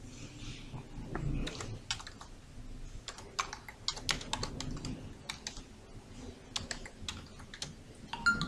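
Soft, quick clicking of computer keyboard keys as a comment is typed, irregular bursts of light taps with brief pauses, close and quiet with no voice.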